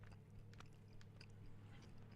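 Someone munches food very near the mic, producing quiet repeated crunches and wet mouth clicks on top of a constant low hum, with no speech.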